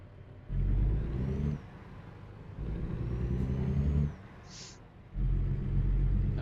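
Truck engine in American Truck Simulator revving in surges after a gear shift, a loud low rumble swelling and dropping in three bursts with a brief high whine between them.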